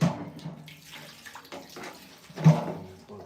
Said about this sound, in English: Gonna put some water up in here.